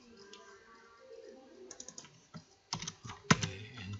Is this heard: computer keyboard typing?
yes